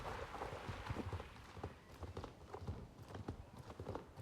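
Horse hooves clip-clop steadily in Star Stable Online, a continuous run of quick, evenly spaced hoofbeats close by with a faint ambient bed beneath and no talk.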